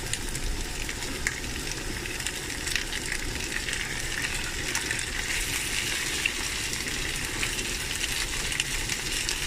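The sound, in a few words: potatoes added to caramelizing onions frying in pan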